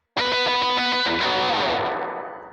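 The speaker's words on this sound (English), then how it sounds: "You want to slide into this octave shape" A distorted electric guitar chord rings out, sliding up in pitch from one fret below into an octave shape, then sustains and slowly fades.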